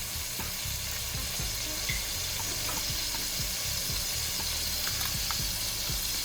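Half a stick of butter sizzles and melts in a pan on the stove, a steady, close, fairly loud crackle with small pops scattered throughout and no voices.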